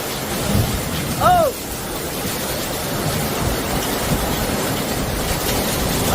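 A violent thunderstorm with heavy rain hisses steadily while low thunder rumbles throughout, and a person gives a brief startled exclamation near the start.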